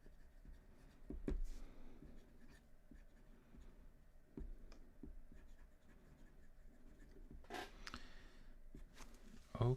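Pen or marker scratches and taps across a lecture writing surface in short strokes and pauses, fairly faint, with occasional rustles and a louder clatter near the end.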